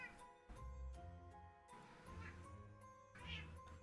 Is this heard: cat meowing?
yes